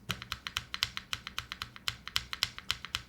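Computer keyboard keys, including the enter key and space bar, are lightly tapped in a steady stream of about twenty crisp, evenly spaced clicks, close and clear with no talking.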